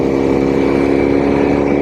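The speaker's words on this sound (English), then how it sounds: "this engine and this bike does rattle" A 1967 Norton P11 motorcycle's engine runs loud and close, a steady mechanical rattle over the throbbing exhaust drone, with no pauses or talk throughout.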